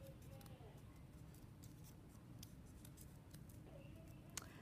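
Scissors snip a folded paper snowflake in a few faint, sharp clicks and cuts against a quiet room background, close to the listener.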